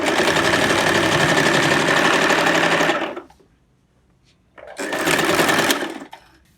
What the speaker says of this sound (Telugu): పెట్టుకొని స్టిచ్చింగ్ చేసేసుకుందాం.